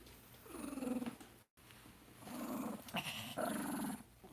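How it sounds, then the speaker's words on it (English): A cat purrs while being brushed, giving soft rumbling bursts in a rough pulsing rhythm with a short gap, close but quiet. The purr comes out low and throaty, almost like a growl. "He's not growling, he's purring"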